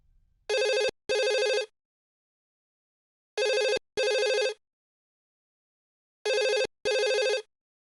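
A telephone rings in three double bursts, each pair of electronic trills separated by a few seconds of silence, clear and close with nothing else heard.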